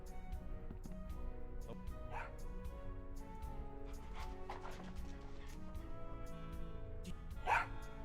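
Franklin the dog in Tales of Monkey Island gives a string of yips and whimpering barks, moderately close, over a steady game music bed.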